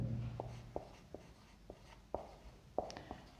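A pen or chalk writing out a physics formula, giving sparse, irregular short scratches and taps spaced across a few seconds, soft and close over a low steady hum, with no talking.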